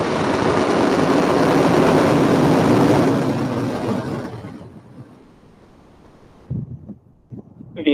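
SpaceX Falcon Heavy rocket lifting off with NASA's Europa Clipper, a loud, broad roaring rumble that swells, then fades away into the distance before a few sharp knocks near the end.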